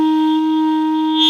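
A small clarinet holds a steady F note, loud and close, with a bright, slightly metallic buzzing tone for just over a second.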